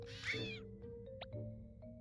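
A short cat meow from the video game Impostor Factory, a single clear call at moderate volume over a quiet, steady background hum with a few faint blips after it.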